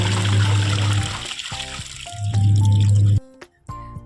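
Running water from a home bath splashes in two loud rushing bursts, with quieter clattering and thuds in between and a brief near-silent gap before the noise returns.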